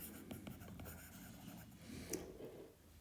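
Pen or pencil scratching across paper as notes are written in a physics class, a steady close-up scribble with small taps and strokes, quiet and continuous with no talking.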